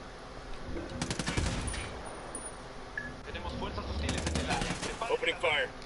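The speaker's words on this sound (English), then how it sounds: "Opening fire." Video game gunfire rattles in rapid automatic bursts, moderately loud and close, broken by pauses and layered under a voice speaking.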